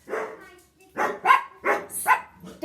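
Sadie, a poodle, barks repeatedly in close, loud bursts, four or five sharp woofs in an uneven rhythm with short pauses between.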